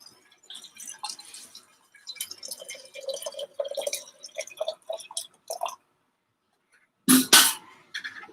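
Hot water poured over 24 grams of ground Rwanda Musasa coffee for a brew, giving a run of soft dripping and trickling patter, then a short louder splashing pour near the end, with no talking.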